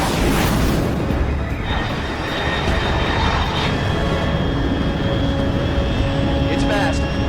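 An unidentified fast aircraft roars overhead in the video game Metal Gear Solid Delta: Snake Eater, a loud, broad engine rumble with a sharp onset, fading into a lingering whine and tonal hum, with a voice talking over it.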